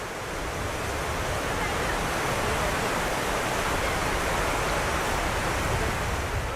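Rushing river water at Devprayag, where the blue-green Alakananda meets the Bhagirathi, roars as a steady, broad, loud wash with no breaks.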